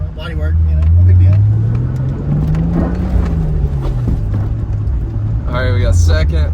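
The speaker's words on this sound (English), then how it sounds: "we got turbo noises" A Toyota Supra Turbo drives along, its engine droning loud and close with pitch swelling and easing as it accelerates, turbo whooshes faintly on top, and people talking inside the car.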